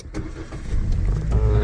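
An Exceed car's engine starts after a push-button press, turning over into a steady low idle that fills the cabin, loud and close with no talk.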